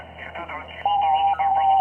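An SDR radio receiver being tuned across the band, giving band-limited radio noise and garbled snippets, then a steady whistling tone that holds, breaks briefly and resumes, with a person talking.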